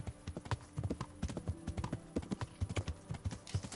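Horse hooves gallop at a steady, rhythmic clip-clop in the medieval video game Kingdom Come Deliverance, close and fairly loud throughout, with faint outdoor game ambience underneath.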